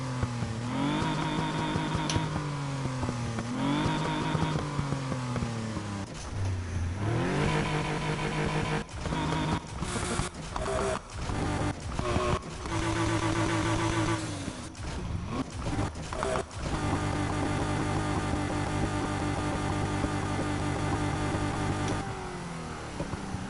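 A 2.8-litre flat-six car engine runs close and loud for a long stretch, revving up and down repeatedly, with clusters of quick throttle blips in the middle before settling into a steadier drone.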